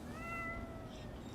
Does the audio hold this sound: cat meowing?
yes